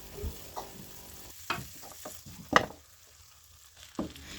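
Fish frying in spice paste in a pan gives a soft, low sizzle, broken by sharp scraping and stirring knocks from a utensil at irregular intervals, with no talking.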